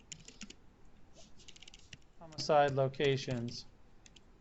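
Light typing on a computer keyboard, scattered soft key clicks in short bursts before and after a single spoken word.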